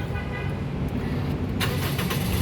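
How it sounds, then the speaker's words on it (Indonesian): A 2010 Toyota Vios 1.5 G automatic engine cranks and catches, a low steady idle rumble with a brighter burst near the end, heard close without speech. "sekarang kita coba nyalakan mobil ya"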